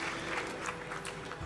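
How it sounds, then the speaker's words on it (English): Crowd applause at the RuneFest 2017 Deadman Mode Autumn Invitational final, a steady wash of clapping from a large audience held throughout, fairly even in loudness with a few brighter bursts. "Give me a round of applause, please, from the crowd"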